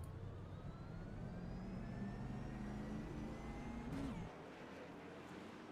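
A pack of stock cars in a racing video game roars off at the green flag, a steady loud engine drone with rising whines that drops away near the end.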